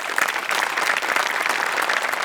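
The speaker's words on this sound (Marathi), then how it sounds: "त्यांच्यासाठी एकदा टाळ्या वाजल्या पाहिजे." An audience claps for a stage guest in a dense, steady burst of applause that stays loud and continuous throughout.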